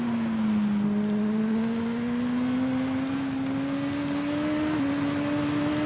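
Superbike engine in TT Isle of Man 2 accelerating hard, a loud continuous engine whine climbing slowly and steadily in pitch with a brief dip near the end, no talk.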